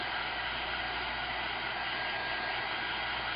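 Hair dryer blowing steadily on a Halloween mixed media artwork, a loud, close, continuous rushing whoosh with no change in pitch from start to finish.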